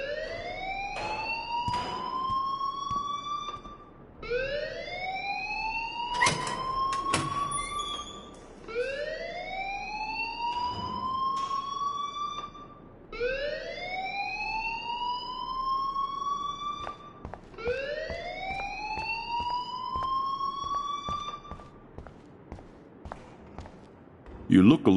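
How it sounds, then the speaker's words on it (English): An alarm wails in rising, repeating sweeps, each about four seconds long, in the video game Life is Strange. It carries on steadily behind scattered background noise. "please turn off that alarm since that's your job"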